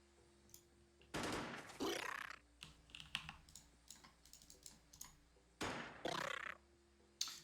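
Blind rifle fire at an alien in the strategy game Xenonauts: several loud gunfire bursts, around 1 to 2 seconds and again near 6 seconds, with sharp clicking and keyboard-like taps scattered between them.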